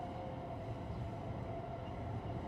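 Steady rumble of a train running in Cities Skylines 2, a continuous rolling drone with a faint high tonal whine, no talking.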